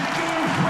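An esports crowd at a Super Smash Bros. Melee tournament roars and applauds in one brief, loud, dense burst of noise.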